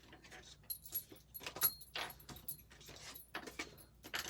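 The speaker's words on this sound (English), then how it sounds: "Let's clean up the cards and move on to Gemini." Tarot cards are gathered up at close range, giving soft irregular shuffling, rustling and light clacking taps, quiet and uneven throughout, with no voices.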